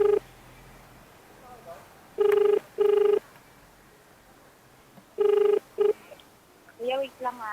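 A phone call being placed: loud, clear beeps repeat in pairs like dialing or ringback tones, with quiet gaps between them, then a brief chirpy tone at the end.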